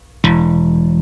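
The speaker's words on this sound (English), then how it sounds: "then we've got a thumb slap on open E" A single thumb slap on the open E string of a bass guitar, a sharp percussive attack followed by a sustained, ringing low note that holds steady without other sounds.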